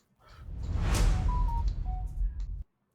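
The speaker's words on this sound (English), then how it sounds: "No, you didn't hear the big whoosh. I heard the whoosh." A broad whoosh transition effect on a podcast swells and sweeps for about two and a half seconds, with faint tonal beeps over it, then cuts off abruptly into silence.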